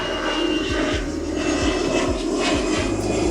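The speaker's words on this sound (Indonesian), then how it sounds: "Waduh, ada pesawat." An airplane flies overhead with a steady, loud jet engine roar filling the whole stretch, while low rhythmic thumps run beneath it.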